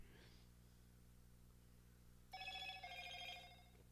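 A phone rings once nearby, a bright warbling burst lasting about a second over a low steady hum in a quiet room.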